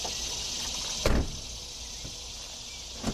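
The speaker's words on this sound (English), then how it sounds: "you gotta press the button again and lift it up again" A Nissan 350Z rear hatch unlatches with a sharp mechanical clunk and then a softer click as it lifts, set over a steady outdoor hiss with a faint insect-like drone and no talking.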